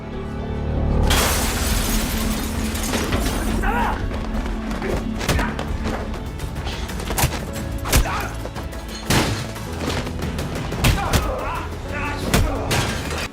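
A crime film fight scene in which glass bursts with a sharp shatter, followed by heavy thuds and impacts under dramatic score, with a narrator's voice speaking over it.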